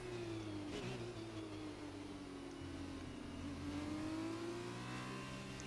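Formula 2 race cars from an Xbox racing game drone through a formation lap at the Brazilian GP, several engines humming steadily together with slowly rising and falling pitch, fairly quiet.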